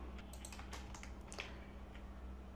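Keyboard typing while HTML code is written, a quick run of light clicks and taps in the first half, then sparser keystrokes over a steady low hum, fairly close and moderately quiet.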